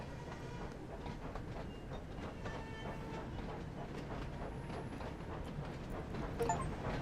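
A train in Train Sim World 5 rolls steadily past at a level crossing, its wheels clattering rhythmically over the rails in a continuous, moderately loud rumble with no voices.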